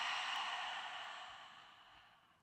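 A long, steady exhale during a yoga practice, a soft breathy hiss that starts strong and fades gradually over a couple of seconds, close and alone with no talking.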